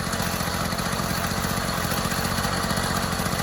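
The small engine of a Nel Lusso motorized bicycle runs steadily at a fast idle, with an even buzzing putter heard close up and without voices.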